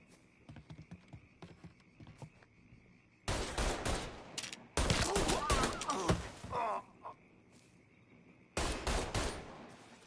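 Bursts of rapid automatic gunfire from the Mafia 3 video game, loud clusters of shots separated by quieter stretches with faint clicking.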